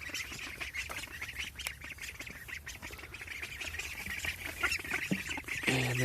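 Backyard ducks quack and honk in scattered, overlapping calls at moderate distance, with a louder burst of calls near the end over a faint outdoor background.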